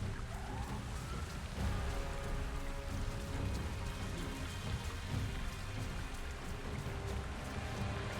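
A heavy thunderstorm in the Avatar video game, with steady loud rain pouring and pattering on surfaces and a low rumble of thunder beneath, continuous throughout with no voices.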